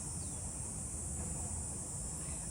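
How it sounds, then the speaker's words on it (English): Cicadas buzz loudly and without a break in a garden on a hot early afternoon, a steady high shrill drone that fills the whole stretch alone, with no talking over it. "also the cicadas are super loud"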